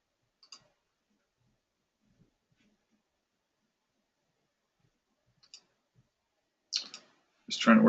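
A computer mouse clicks a few times, sharp and isolated against near silence, followed by a voice speaking at the end.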